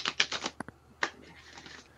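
Tarot cards being shuffled by hand, giving quick papery riffles and flicks in several short bursts, close and fairly quiet, with a softer rustling stretch near the end.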